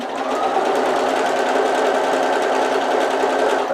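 A sewing machine stitches a laptop bag, its needle chattering in a fast, steady mechanical run that sounds close and fairly loud from start to finish before stopping at the very end.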